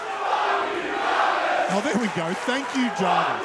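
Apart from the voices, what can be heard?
wrestling crowd cheering for Jarvis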